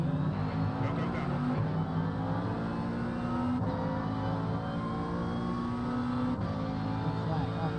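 Thirty-five race cars in iRacing at Spa-Francorchamps in Belgium, a steady dense roar of engines droning together as the field gets ready to go green, under a commentator's voice.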